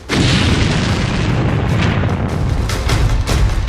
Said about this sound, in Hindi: इसके बाद ये टैंक जलता रहा और फिर हुआ ऐसा धमाका